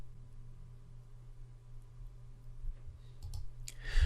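Soft computer mouse clicks, a few quick taps near the end over a steady low electrical hum, close and quiet.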